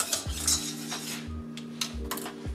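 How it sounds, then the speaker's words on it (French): A whisk scraping and clinking against a pan while stirring a flour mixture for vegan bouchées à la reine, quick metallic taps and swishes repeating in an uneven rhythm, close and moderately quiet. "on vient fouetter et mélanger sans s'arrêter pour dissoudre les petits paquets de farine"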